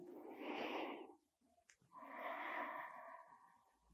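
Slow, audible breaths in and out during a side-bending stretching exercise, a long inhale then a long exhale, soft and close with a brief pause between.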